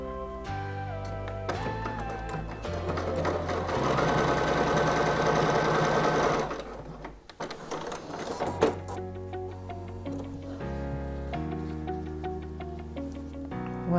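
Sewing machine stitching a straight stitch at 2.5 length with a thicker thread, running steadily for several seconds in a loud, close mechanical whir, then slowing into lighter intermittent clatter.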